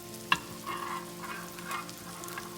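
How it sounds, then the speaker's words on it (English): Tofu pieces browning in a pan: a soft, even frying sizzle with a sharp tap near the start, then a quiet steady hiss with faint clinks. "we're just going to brown it a little bit on each side"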